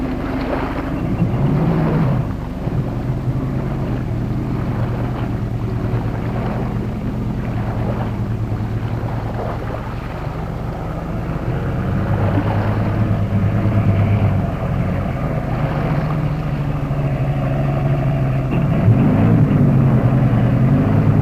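A British amphibian load carrier with more than 5 tons of capacity drives across country, its engine a steady, loud drone with rising and falling revs and wind rumble throughout. No one speaks.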